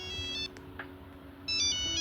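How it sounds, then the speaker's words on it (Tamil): A mobile phone ringtone plays inside a Roblox phone-stealing game, a bright repeating electronic melody that sounds clearly, breaks off briefly in the middle, then resumes loudly over a low steady background hum. "இந்த ரிங்டோனை ஃபஸ்ட்டு மாற்றுங்கடா"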